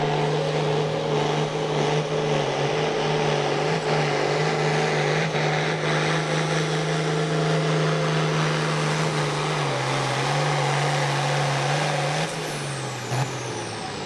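A pulling truck's engine roars loudly and steadily at an Appalachian truck and tractor pull event, holding a strong droning tone that dips slightly in pitch near the end of the run.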